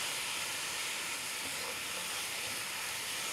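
Seasoned meat stir-frying, a steady loud sizzle and hiss of hot fat that runs unbroken and close throughout, with no talking.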